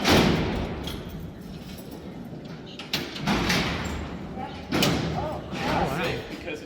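Heavy steel cell doors at Alcatraz prison, worked by a lever mechanism, slam and clank shut in several loud, echoing impacts, with background murmur from the cellblock throughout.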